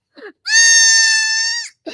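A goat at an animal sanctuary gives one loud, sustained, piercing scream-like bleat lasting over a second, very close, with brief faint sounds before and after.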